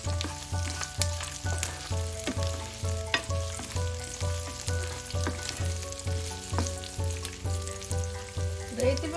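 Onions, dried red chili, ginger, garlic and cashews sizzling in oil in a pan, with a steady fry under rhythmic stirring scrapes and clinks that repeat about every half second, close and fairly loud.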